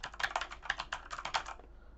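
Rapid typing on a Sandberg Hailstorm keyboard held close, a dense run of crisp key clicks for about one and a half seconds, then stopping into quiet.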